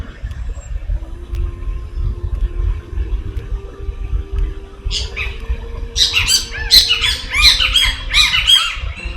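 Birds squawking outdoors during an open-air acroyoga session, a run of loud, repeated harsh calls over a low rumbling background, nearby and without voices.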